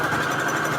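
Sewing machine running a zigzag stitch, a steady close mechanical whir with a fast even motor hum and rapid needle rhythm, alone and fairly loud for under a second.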